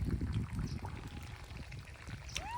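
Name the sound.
water poured onto eggplant plants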